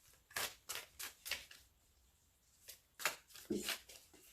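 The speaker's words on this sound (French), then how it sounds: "Je vais tirer 3 cartes du tarot" Tarot cards riffle and slap in short quick bursts, several in a row with a pause in between, close and fairly soft in a quiet room.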